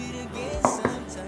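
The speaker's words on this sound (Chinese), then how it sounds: "香菇泡软了，把香菇切成条状。" A knife chops soaked, softened shiitake mushrooms into strips on a board, two sharp close cuts landing a moment apart over a low background hum.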